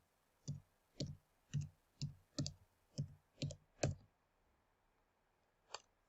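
Typing a short password on a keyboard: eight evenly spaced, crisp key presses about half a second apart, then a pause and one final tap, close and quiet.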